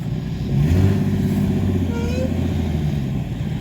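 A 1960s Ford Bronco engine revs up from a low rumble into a loud, close, throaty roar, then holds a steady, rough idle outdoors.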